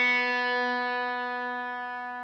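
A guitar B string is plucked once for tuning, its bright sustained tone ringing clearly and decaying gradually with no other sounds.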